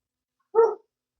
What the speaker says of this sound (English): the dog's out there barking